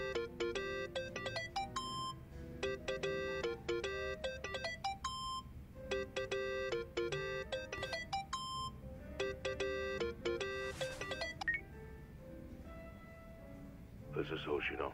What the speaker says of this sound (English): That's your phone.